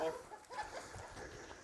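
Chickens on a farm in Punta Gorda, Belize, cluck faintly and intermittently in the background while people talk nearby.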